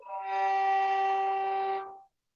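A bowed string instrument played on its G string with an unrosined bow, giving one sustained, close, fairly loud tone rich in overtones that holds steady for about two seconds and then stops abruptly, with no talking.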